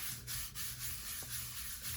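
Ink is rubbed onto a scrap of junk journal paper in soft, close, repeated scratchy strokes, a back-and-forth swishing with a few brief pauses.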